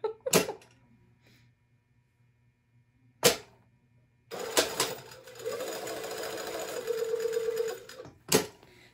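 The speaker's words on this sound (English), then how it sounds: "I'm just going to sew up, around, and down. It really helps if you turn on your machine" A sewing machine stitches a collar seam in one sustained run of a few seconds, framed by sharp knocks and clicks before and after, otherwise quiet.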